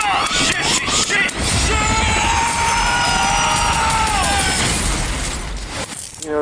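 A helicopter with its rotor shot off sounds during a chase scene in Beverly Hills Cop: Axel F. A dense, continuous roar holds throughout, thick with crashes and scattered bursts, and voices can be heard in the mix.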